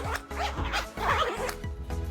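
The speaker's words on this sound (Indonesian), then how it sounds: "yang menggunakan resletingnya itu sangat mudah dibuka ya, tas lovers, tanpa macet, tanpa tuh." The YKK zipper on a Cotopaxi Moda 20L waterproof backpack is pulled open in several quick rasping strokes, close and clear, each run smooth and unbroken.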